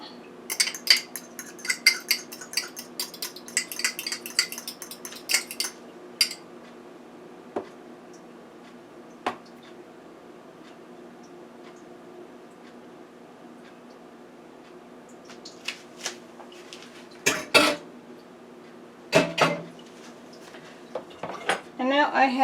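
Sweet potato pie filling with egg being mixed in a bowl, clinking and scraping of a utensil against the dish in irregular bursts with quiet gaps, close by, with occasional soft speech.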